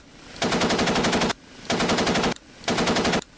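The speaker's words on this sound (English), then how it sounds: "Nice 50 cal action." Three long bursts of .50 cal machine gun fire from an OH-58D Kiowa helicopter in the DCS flight simulator, each a loud, rapid, steady rattle lasting about a second with brief pauses between, no talking.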